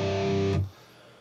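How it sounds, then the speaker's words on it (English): A single distorted electric guitar power chord on the 3rd fret of the lowest string, a thick buzzing blast held for about half a second and then cut off abruptly, alone. "You start off with a power chord on the 3rd fret of the lowest string"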